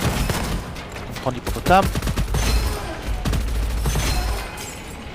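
Rapid bursts of gunfire from the hippopotamus weapon in the shooter game Gunfire Reborn, sharp cracks clustered in quick volleys over a low rumble, with someone talking briefly over the shots.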